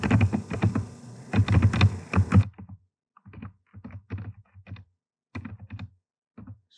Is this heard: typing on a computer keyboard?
yes